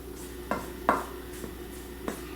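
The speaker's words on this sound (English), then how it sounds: "I'm just going to toss this around and get all that butter coated" Cold butter pieces tossed in flour in a bowl for puff pastry give soft, muffled thumps and light rustling, a few scattered hits over a low steady background hum, with no voices.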